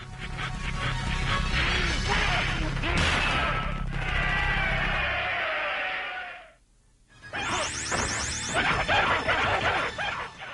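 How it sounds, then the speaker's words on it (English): Objects being smashed in the Mortal Kombat test-your-strength bonus round of the video game: loud, dense arcade impacts and crashes with crowd-like noise, a brief near-silent gap, then more bursts of game effects. "win bonus points by smashing progressively harder objects"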